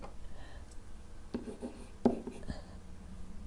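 A pen or marker writes an equation on a surface, giving soft, faint scratching strokes in short bursts, with a quiet voice present.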